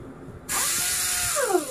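Pneumatic air socket impact wrench, part of a ship's mechanical tool kit, kicks on abruptly and runs steadily with a loud hissing whir and shifting motor pitch for over a second.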